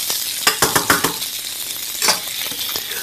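Wheat protein browns in a hot pan with a steady sizzle. Several light clinks and stirring scrapes sound up close, and no one talks.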